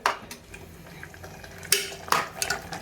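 A spoon stirs and mixes food with salt in a bowl, giving irregular clinks and scrapes against the dish with a few sharper knocks, close and moderately loud, with no talking.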